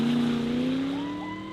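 Car engine revving at a cliff edge in Alaska, one close, loud, sustained drone that slides slightly in pitch and fades a little over about a second and a half, with no voices.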